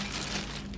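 Plastic bags that held Spyderco knives crinkle steadily up close, a dense, continuous rustle with no pauses and no voices.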